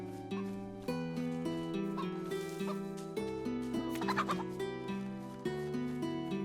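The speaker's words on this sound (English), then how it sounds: "Is that a chicken I see?" A chicken clucks in a video game, with short clucking calls rising midway over steady background game music.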